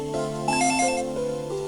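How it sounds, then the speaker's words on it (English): Telephone ringing in a living room in the Dragon Ball Z: The Legacy of Goku video game, a short electronic tonal ring pattern with steady pitched beeps, clear and alone. "The phone is ringing in the living room."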